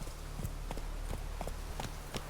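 Roach, the horse in The Witcher 3, gallops with a quick, uneven clip-clop of hooves over a steady low background hum, moderately loud and close.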